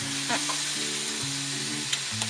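Garlic shrimp fry in a pan with honey, a continuous close sizzle broken by the scrape and clatter of stirring, with no voices.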